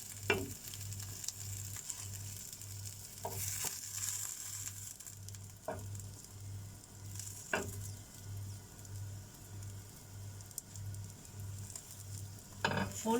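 A breakfast quesadilla, folded over, sizzles and fries steadily in a hot pan, with a constant crackling hiss and a few louder pops and scrapes along the way, close and continuous with no talking.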